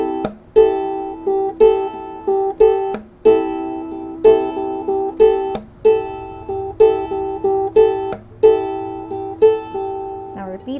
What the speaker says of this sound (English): the plucking pattern for that is you need to pluck the G string